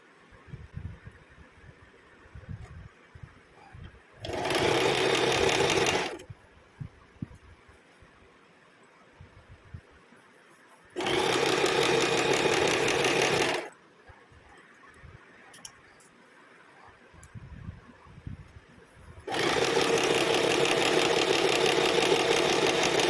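A sewing machine stitches a kurti in three separate bursts, each a loud, steady mechanical whir running a few seconds, with quiet room noise and faint handling in between.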